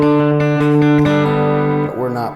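An open D string on a guitar is plucked once and rings with a clear, sustained tone, close and alone, with a second note bending in briefly near the end.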